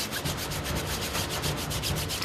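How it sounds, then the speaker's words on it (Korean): A detergent-soaked brush scrubs mold off a water park surface in steady, rhythmic back-and-forth strokes, close and continuous, with no voices. "솔에 세제를 묻혀 꼼꼼하게 곰팡이를"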